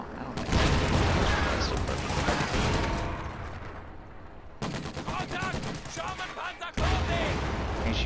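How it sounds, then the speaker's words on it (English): HE shell artillery fire in a World War II strategy video game, loud sustained barrages of booms and rapid gunfire with abrupt cuts between bursts, a voice talking partly underneath. "HE shells do nice damage there"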